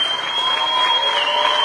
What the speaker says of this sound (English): Maybe it's the roar of the crowd